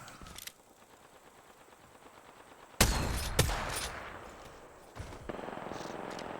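Gunfire rings out in Apex Legends: quiet at first, then sharp bursts of shots strike loudly, one after another, and fade into rattling echoes, with a second burst later on.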